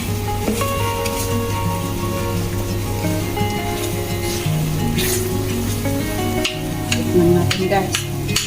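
Food stirred in a frying pan with hot oil, a steady close sizzle and frying crackle running throughout, with occasional spoon scrapes and clinks against the pan and faint background tones.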